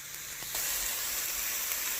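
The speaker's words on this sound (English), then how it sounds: "My spinach is in and being sauteed" Spinach sautés in a pan, hissing and sizzling steadily after a brief quieter start, with a faint clink early on.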